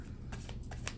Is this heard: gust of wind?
no